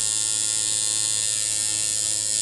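A tattoo machine liner runs off a power supply with a steady, smooth electric buzz and a bright whine, close and unbroken throughout.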